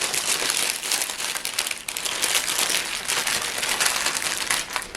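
Close, continuous paper crinkling and crumpling as a pot roast sandwich is wrapped in paper by hand, steady for several seconds with no talk.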